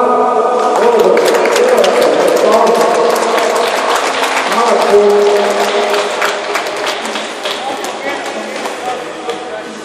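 A hockey awards ceremony audience claps steadily and loudly at first, then gradually thins out, while an announcer's voice carries over the applause.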